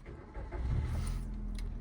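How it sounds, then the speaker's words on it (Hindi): A car engine cranking and catching as it starts with the clutch pressed, a brief low rumble settling into a steady idle, close by and without talk. "अब आप क्लच दबा के इंजन स्टार्ट कर लीजिए।"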